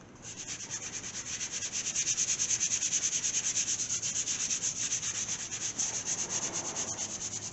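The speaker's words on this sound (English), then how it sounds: "I'm going to sand this one more time. And I'm going to prime it. And I'm going to hit it with 400." Hand sanding primer on a rusted spot repair on a Gremlin car body with 400-grit sandpaper: steady, rhythmic back-and-forth scratching strokes, close and loud, continuing alone for several seconds.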